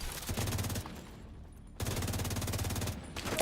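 Rapid automatic gunfire emptying a magazine in The Division 2, two dense bursts of fast, evenly spaced shots separated by a brief lull, fairly close and crisp.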